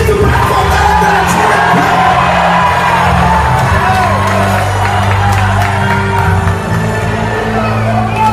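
A church congregation shouts and whoops loudly together at a preacher's call, a dense, sustained roar of many voices that fills the whole stretch without a break.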